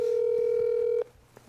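A steady telephone dial tone drones loudly for about a second before a call to an uncle connects, then cuts off to quiet line noise.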